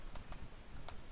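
Keys tapped on a computer keyboard while someone codes a game in HTML5, three quick soft clicks close by over a low background rumble.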